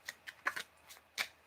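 An oversized tarot deck is shuffled by hand in a quiet room. The cards give five or six soft, papery riffles in an uneven rhythm, close by and fairly faint, with no talking.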